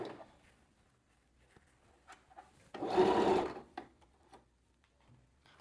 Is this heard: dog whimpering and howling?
no